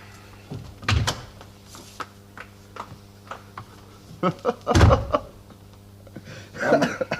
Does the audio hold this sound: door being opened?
yes